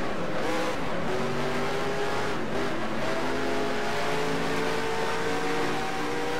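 A NASCAR Racing 2003 race car screams along at Watkins Glen, its engine revving loud and steady with shifting pitch and a brief tire squeal, no talking.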